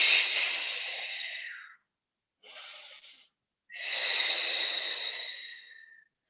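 An instructor breathes loudly and closely through a Pilates exercise for osteoporosis: a long exhale, a short breath, then another long breath, each separated by brief silences.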